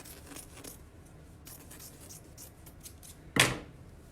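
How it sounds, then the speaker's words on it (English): Scissors snip through a pillowcase in one loud, sharp close-up cut near the end, after a stretch of faint rustling and handling of the fabric. "So I'm just gonna cut the pillowcase off of this one"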